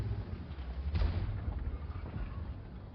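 Artillery fire lands in a tank video game, a single heavy boom about a second in that rolls off into a rumbling tail under low background game noise.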